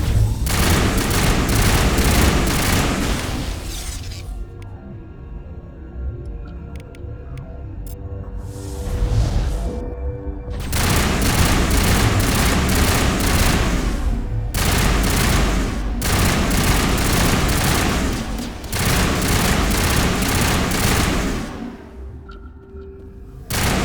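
Heavy gunfire in the Mass Effect video game on PS5: dense bursts of rapid automatic fire and booming shots, loud and close, broken by brief quieter gaps with sweeping whooshes before the barrage resumes.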